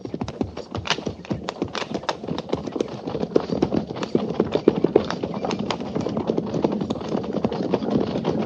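Several horses trot along a trail, a dense, steady clatter of hoofbeats close by that continues throughout, with a faint whinny or voice now and then.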